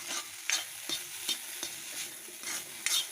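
A carrot stir-fry with coconut and chili is stirred in a pan, with repeated scraping strokes at an irregular rhythm over a faint sizzle.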